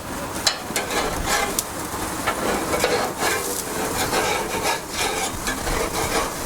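Flank steak searing in a hot pan as it gets turned, a steady close crackling sizzle with scraping and rubbing textures throughout.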